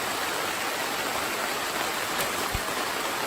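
During a storm at an off-grid campsite, rainwater sheets off a tent roof as it is struck, a dense, constant hiss of falling water close by with a soft thump partway through.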